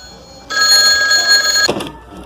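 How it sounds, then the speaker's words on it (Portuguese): A telephone rings loudly in the Siren Head video game: one steady, bright, buzzing electronic ring lasts just over a second, then ends abruptly, and no one speaks. "O telefone tá tocando, só um segundo."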